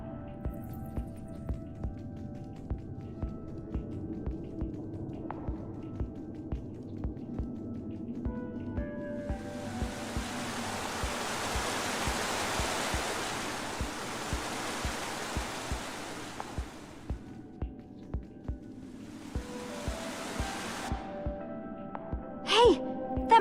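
A rushing waterfall in the video game Minecraft Story Mode swells up as a broad wash of noise, fades, then returns more briefly, over a game's steady rhythmic music and ambient hum, without talk.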